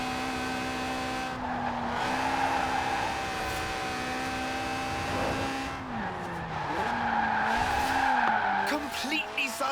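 A car drifts sideways in Forza Horizon 4, its engine holding a high, wavering whine while tires squeal continuously, the pitch dipping and climbing as the throttle shifts.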